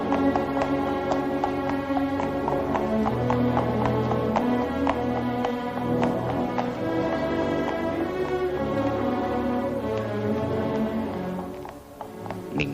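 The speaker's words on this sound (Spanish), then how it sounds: "el caballo de Pompeyo continuó abriéndose camino" Horse hooves clip-clop in a steady, repeated rhythm as a horse advances through the temple grounds of ancient Jerusalem, fairly loud and close, set under a sustained musical bed, with no one speaking.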